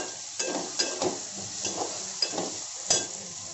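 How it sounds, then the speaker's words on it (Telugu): Tomatoes frying in a pan while being stirred, a soft continuous sizzle punctuated by about seven rhythmic scraping strokes of a spoon, close and moderately quiet with no voices. "టమాటా బాగా వేగిపోయిందండి."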